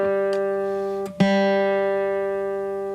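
A guitar's G string is plucked and left ringing during tuning, a steady sustained tone with rich overtones, briefly damped and re-struck partway through, loud and close with no talking.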